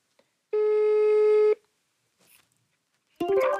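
A telephone call signal sounds while phoning a friend, one sustained ringback tone lasting about a second, then a faint blip and a voice starting at the end.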